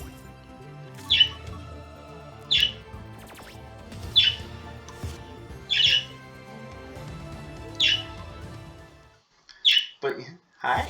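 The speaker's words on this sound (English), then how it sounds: "We got some singing birds here, people." Pet birds squawk in short, loud, high bursts, about every one to two seconds, over game music and thumps, ending in a quicker cluster of calls.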